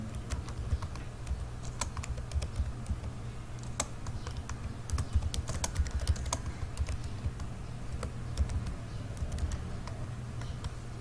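Steady, fast typing on a computer keyboard, a continuous run of close clicks and taps over a low background hum, with no talking.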